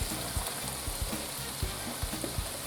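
Onions and carrots frying in oil in a pan, a steady close sizzle with soft crackles and occasional stirring scrapes, no voices.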